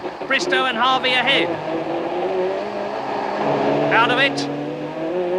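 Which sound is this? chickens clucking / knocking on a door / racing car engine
racing car engine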